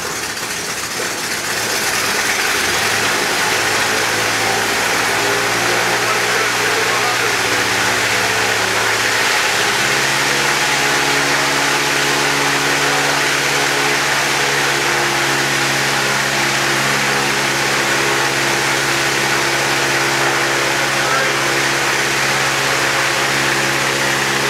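An aircraft engine being run up to 2100 rpm at an aviation technical school, a loud steady drone that climbs in pitch over the first ten seconds and then holds at a sustained high roar.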